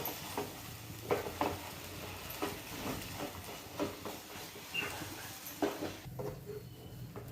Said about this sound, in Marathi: असं हलवत राहायचं मस्त.